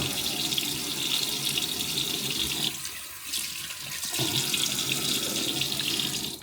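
Tap water gushes steadily into a sink as a face is wetted before a shave, a constant close hiss that softens briefly midway before resuming at full strength.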